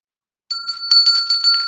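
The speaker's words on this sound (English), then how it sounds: "There's the bell." A bell rings out in a quick series of bright, metallic dings with a clear sustained tone, loud and close, starting abruptly after a moment of silence.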